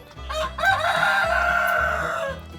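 GSB hens close by let out loud, drawn-out calls, one short cry followed by a long, wavering note that fills most of the moment.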